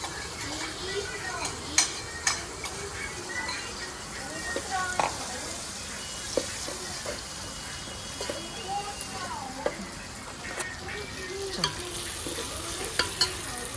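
Onion, tomato, chili and spices fry in a pan with a steady sizzle. A spoon scrapes and clinks against the metal now and then, and a person talks over the cooking throughout.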